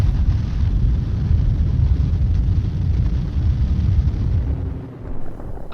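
The atomic bomb explosion over Hiroshima, Japan, rendered as a loud, deep, continuous roaring rumble that holds steady for several seconds with no voices.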